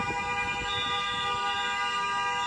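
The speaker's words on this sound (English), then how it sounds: "The honking of the horns and all of that, like, it is specifically them terrorizing people" Car horns honk steadily in a street in St. Paul, a continuous tonal blare of overlapping horns held throughout, moderately loud with traffic rumble underneath.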